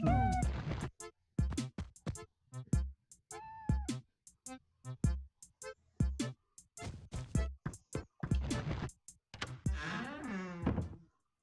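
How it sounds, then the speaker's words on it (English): Playful Animal Crossing video game music laced with scattered cat meows, short melodic mews popping up between bright plucked notes in a quiet, gentle loop. "I love this music because it just has random cats in it."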